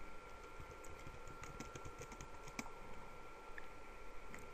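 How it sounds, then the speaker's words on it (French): Fingers tap out a short line on a computer keyboard, a quiet, even run of light key clicks against soft background hiss, with no one speaking. "Et là, ben, je vais taper valeur de x"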